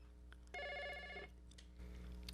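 Old-style telephone bell rings once in a loud, steady burst of about three-quarters of a second, set against a radio call-in show's studio background hum, with quiet room tone before and after.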